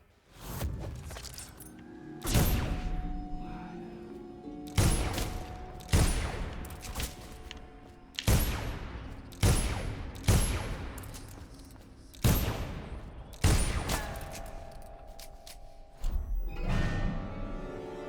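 Gunfire from the Dishonored DLC game: about ten sharp, loud shots spaced a second or two apart, each ringing out with a booming decay, mixed with faint in-game background sound.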